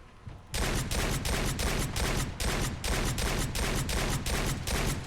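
Riot shotgun fired from the hip in Fallout 4, a rapid automatic string of loud close blasts at an even fast rhythm lasting several seconds after a quiet start, no talking.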